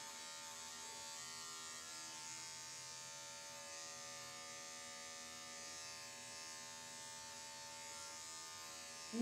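Electric clippers buzz steadily and close up while shaving down a dachshund's coat against the hair, a continuous motor whine holding level throughout, ending in a brief louder bump.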